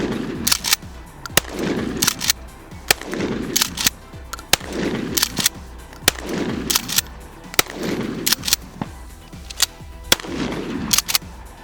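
A Remington 870 Police Magnum pump shotgun fitted with a police folding stock fires about eight loud, sharp shots at a steady pace. Each blast rings out briefly before the next, and no one speaks.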